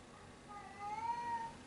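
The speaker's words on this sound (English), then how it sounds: "this content remains being interrupted by a very rude cat" A rude cat lets out a single rising meow partway through, fairly faint over a quiet room background, with no talking.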